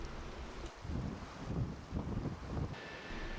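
Strong gusty wind at the seaside buffets the microphone in a steady, close roar with rising and falling surges, and surf may be mixed underneath.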